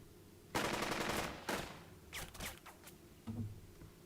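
Gunfire in Burden of Command, a WWII tactical video game: bursts of rapid machine-gun and rifle fire, a long opening volley, then shorter crackling bursts and scattered shots at moderate distance, with no talking.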